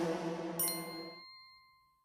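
A single bright notification bell dings over a fading musical tail, its clear metallic tone ringing out and decaying slowly into silence.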